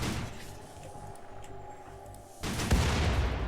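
Gunfire in the video game RimWorld plays as dense, rumbling rapid shots and booms under a steady noisy background, swelling louder and harsher near the end; no talk.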